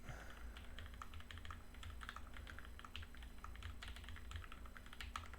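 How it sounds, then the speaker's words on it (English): Rapid, steady keystrokes on a custom ergonomic keyboard built with OSA keycaps, clattering continuously at close range through a typing test over a low background hum, with no voices. "let's get one more typing test in"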